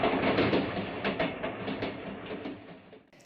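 A train running in a scene from the film Pakeezah, a steady rolling rumble with faint rhythmic clicks of the wheels, continuous and fairly loud, fading at the very end.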